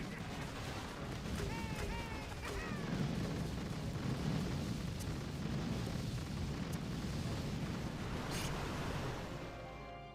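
Game combat with rocket launchers firing at a mech: a dense, continuous rumble of blasts and booms fills the whole stretch, with faint whistling streaks early on and a sharp crack near the end.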